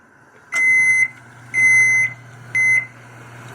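An oven control panel gives three electronic beeps while the temperature is set, two longer tones and a shorter third at an even pace, clear and close over a low appliance hum.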